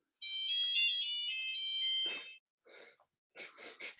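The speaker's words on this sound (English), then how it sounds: "Can't even work on my own phone here. This crazy thing just keeps going off." A mobile phone rings loudly with a bright electronic tone for about two seconds before cutting off, followed by a few short bursts of talk nearby.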